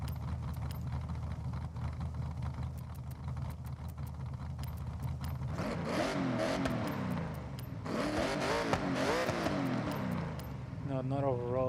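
Car engine in Forza Horizon 6, running stock with no engine upgrades, revving hard in rising and falling sweeps over a steady drone, loud and close, with voice talking over it.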